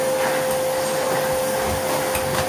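A Hoover Whirlwind vacuum cleaner runs close by with a loud, steady roar and a constant high whine, unbroken for the whole stretch with no voices.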